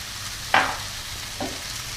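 Soy sauce poured into fried rice in a hot pan, giving a brief sharp sizzle burst followed by a smaller second hiss over a steady low frying background.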